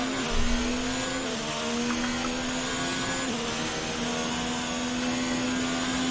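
Formula 1 race car engine in the F1 2019 game at the Russian Grand Prix, a steady high-pitched whine held at speed with a brief pitch dip partway through, loud and continuous with no talking.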